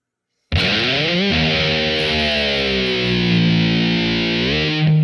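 An electric guitar with distortion rings on its open low E string. A tremolo-bar dive bomb bends the pitch steadily downward, a few bends come in along the way, and the note swoops back up near the end. It is loud, close and sustained, with no voices.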